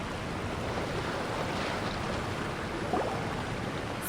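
Steady rushing waterfall in the video game Genshin Impact, a constant broad wash of falling water at even loudness throughout, no voices.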